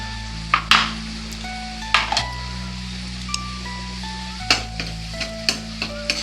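Ginger paste frying with onion in a pan makes a continuous sizzle, broken by several sharp clinks and scrapes of a spoon against the pan, with a faint low hum underneath.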